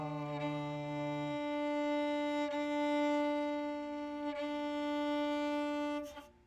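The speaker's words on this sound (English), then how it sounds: "Okay, and here's your D string." Sustained bowed note on a viola's D string, played as a tuning reference, with a brief lower note at the start, then a long steady tone close and loud, ending with a faint knock.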